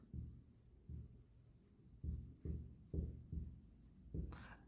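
Pen writing on paper or a board while drafting a company balance sheet in an accounting lesson: close, intermittent scratchy strokes in short bursts with pauses between them, no talking.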